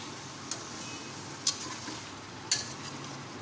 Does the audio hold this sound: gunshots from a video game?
no